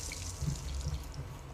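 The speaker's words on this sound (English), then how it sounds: "I turned the water on" Water tap running in the video game Dishonored, a faint short trickle and splash into a basin under low background hum.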